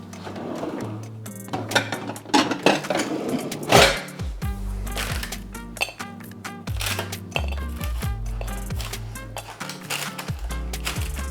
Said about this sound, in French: ils sont chauds encore, je vais les mettre dans une assiette